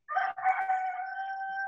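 A single rooster, a chicken kept in a home garden, crows one clear, drawn-out cock-a-doodle-doo lasting almost two seconds. It is close and fairly loud, starts with a short broken phrase, then holds a long steady call with no talk.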